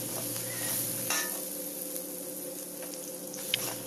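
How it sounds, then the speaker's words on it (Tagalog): Sliced onion sizzling in a frying pan while chicken and potatoes cook, a steady close hiss with faint clinks of stirring and no talk. "Maglagay na rin tayo ng hiniwang sibuyas."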